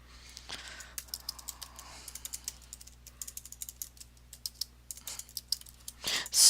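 Typing on a computer keyboard, a steady run of close, crisp key clicks in irregular bursts with short pauses, ending in a louder clatter and rustle.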